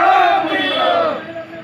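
A crowd of striking workers outside shouts a loud protest chant in unison, a single sustained collective cry that fades slightly toward the end.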